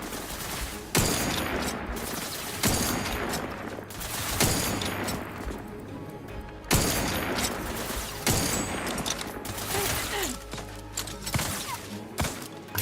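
Sustained gunfire in a video game firefight, heavy shots and bursts recurring every couple of seconds over a dense, continuous roar of battle noise, loud and close.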